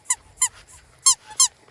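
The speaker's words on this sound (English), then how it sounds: "We found this squeaky toy." A dog's squeaky toy squeaks sharply five times in uneven pairs, close and loud against near silence, with short gaps between the squeezes.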